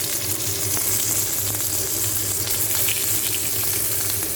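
Minced chicken chapli kebab frying in hot oil with lemon juice dripped on it, a loud, steady, close sizzle and crackle that continues without a break.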